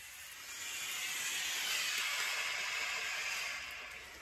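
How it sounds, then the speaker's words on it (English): A warming-up steam appliance releases a steady, soft hiss of steam that swells in over the first half second, holds evenly, then eases off near the end, close by and with no talking. "You can hear that, it's warming up, the steam is going"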